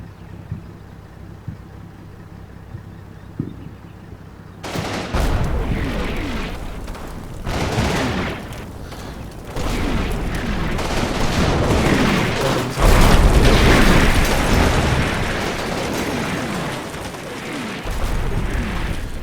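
Artillery fire mission in the video game Combat Mission: Fortress Italy, a heavy barrage of booming explosions and rumbling blasts that bursts in suddenly after a quiet start and keeps pounding in waves, loud and close.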